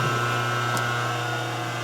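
An electric motor runs steadily in an old workshop, a constant close hum with a strong low tone and one brief click partway through, with no talk.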